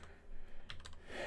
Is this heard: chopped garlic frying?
no